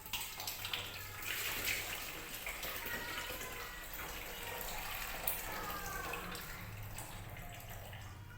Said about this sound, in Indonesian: Ini setelah dicincang-cincang dagingnya kita cuci dulu.